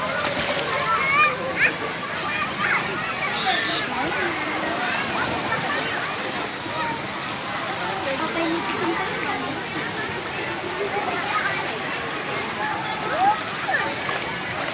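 A small child splashing while swimming in a pool, steady light sloshing and splatter throughout, with a busy background of distant voices and babble.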